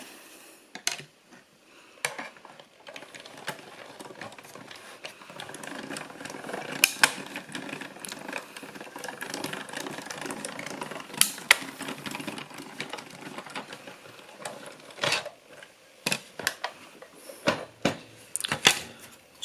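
A small die-cutting machine feeds paper through with steady mechanical grinding and cranking, broken by sharp clicks and clacks at irregular moments, close and moderately loud.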